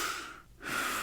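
A single slow breath through the nose, a soft airy exhale fading into a brief pause before the next inhale rises, close and quiet with no talking.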